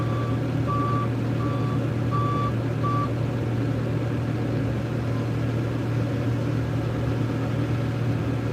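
A truck backing up in a snowstorm, its reversing alarm sounding a few steady beeps over a loud, constant idling engine rumble that fills the whole stretch.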